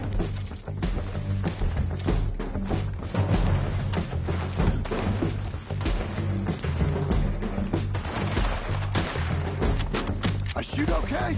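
Gunfire in the video game Red Dead Redemption: dense, repeated booming shots and thuds in quick succession, mixed with game sounds and someone talking throughout.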